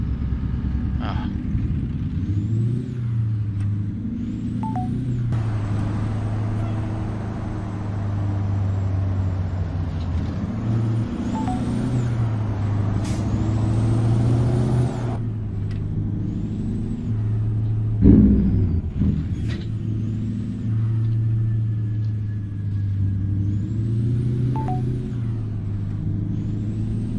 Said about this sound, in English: There's my V8 sound.